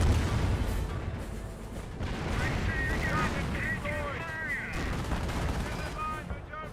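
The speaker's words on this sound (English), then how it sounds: "Fly through rocket barrage, getting some good hits there." In Company of Heroes, a rocket barrage sets off a dense run of booming explosions and crackling impacts, with whistling rockets overhead and a commentator talking underneath throughout.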